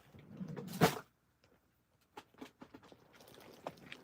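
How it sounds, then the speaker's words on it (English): Someone rummages in a drawer: a loud clunk as it opens, then a quiet gap, then scattered small clatters and shuffling of items inside. "Let me see what I've got in the drawer."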